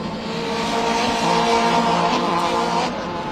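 Caterham racing cars at Snetterton cross the finish line, engines roaring loudly and steadily, with a swell as the pack passes close by mid-way before easing slightly.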